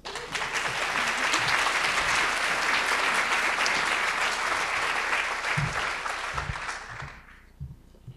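Sustained audience applause greets a keynote speaker taking the podium, a dense steady clapping from a large crowd that holds for about seven seconds before fading out, with a few scattered claps trailing off.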